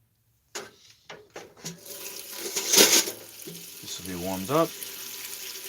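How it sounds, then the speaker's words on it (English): A kitchen tap runs water into a pot, with intermittent clatter and a steadier stream toward the end, while a person speaks over it. "I'm just gonna put a little water in this,"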